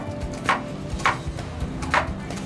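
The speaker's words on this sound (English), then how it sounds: "I do not make that much noise when I'm cutting onions" A knife chopping white onions on a board in a butter chicken cooking demo, three firm, evenly spaced thuds ringing clearly over a steady low background.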